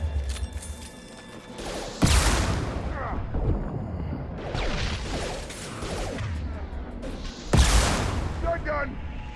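Shotgun blasts in a Mass Effect 2 firefight, two sharp loud booms a few seconds apart over a continuous din of combat noise and effects.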